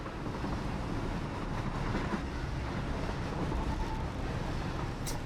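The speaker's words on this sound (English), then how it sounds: "The trains just kind of ran through each other" Trains in the factory-building video game Satisfactory run along rails with a loud, steady rumble and rolling clatter that fills the whole stretch, with no voices over it.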